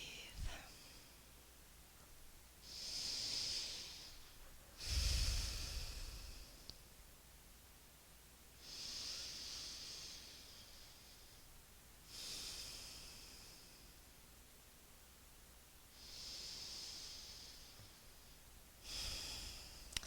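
Slow, deep breaths during a yoga hip stretch, with long hissing inhales and exhales spaced a few seconds apart and close to the mic, one heavier snort-like breath standing out.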